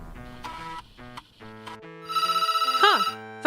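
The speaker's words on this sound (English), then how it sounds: "Phone's ringing." A phone rings inside a video game, a bright electronic trilling ringtone starting after a stretch of tonal background music and repeating in rapid pulses.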